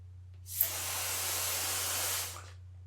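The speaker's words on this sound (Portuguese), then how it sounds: "Observou como faz o spray?" A mouth-blown tube sprays paint from a small pot in one sustained, airy hiss of about two seconds, heard up close and unaccompanied above a faint steady hum.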